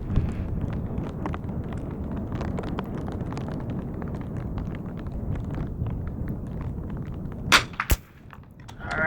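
Gunshots crack out at an outdoor shooting range during a final group of rounds, a dense run of sharp reports through most of the clip, with two loud, distinct shots standing out near the end before it trails off.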